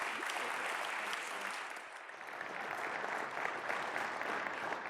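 Audience applause rings out in a chapel to welcome speaker Phil Tuttle, a steady, dense wash of clapping from a large crowd that holds at full strength throughout without fading.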